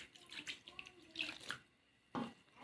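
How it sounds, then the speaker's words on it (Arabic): Water is poured into flour and butter for a pastry dough, giving short splashy pours in a few bursts with a pause before the last one and faint talk in the background. "ودوكا نزيدو لها الماء"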